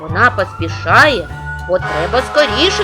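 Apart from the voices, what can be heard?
No everyday noises stand out.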